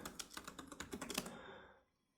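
Quick burst of typing on a computer keyboard, about a dozen close, crisp key clicks in a rapid run lasting just over a second before fading into silence.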